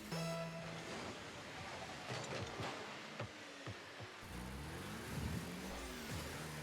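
Cars driving in a rocket-powered car soccer video game played at a Special Olympics Oklahoma Winter Games esports event, a continuous engine whine with shifting revs and boost, scattered thumps and clicks throughout.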